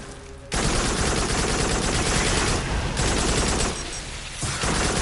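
Loud, dense gunfire in the VR shooter Farpoint, a continuous barrage of rapid shots that starts abruptly after a brief quieter moment and keeps going with short dips in intensity, no voices.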